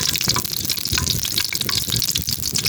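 Shanghai rolls filled with CDO Carne Norte corned beef and cheese frying in hot oil outdoors, a loud, steady crackle and sizzle filling the whole moment.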